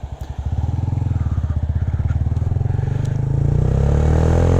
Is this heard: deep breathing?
no